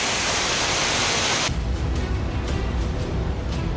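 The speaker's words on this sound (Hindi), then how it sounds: "भावनगर में भारी बारिश से पुल के ऊपर से पानी बह रहा" Floodwater after heavy rain in Bhavnagar, Gujarat, pours over a bridge as a loud, steady roaring rush that fills the whole stretch, with no voices.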